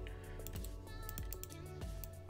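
Keys on a computer keyboard tapped during 3D modelling, several sharp close clicks spaced across a steady background hum, with no talk.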